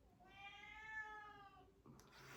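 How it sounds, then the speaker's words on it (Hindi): A domestic cat meows once in a long, drawn-out call with a clear tonal wail, close and fairly loud, ending abruptly before a brief rustle; no talking over it. "मेरी बिल्ली आवाज़ दे रही है अब यार"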